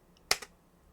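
Typing on a computer keyboard: two quick, close, crisp key clicks in otherwise quiet surroundings.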